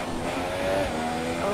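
Race car engine in a racing video game at the Belgium round, a loud continuous high-revving drone with slight pitch shifts and a faint tire squeal as the car takes a corner.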